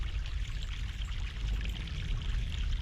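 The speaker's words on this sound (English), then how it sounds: "Fresh mountain water." Fresh mountain water poured in The Longest Journey, a steady continuous splashing stream with no breaks, close and fairly loud with no talk.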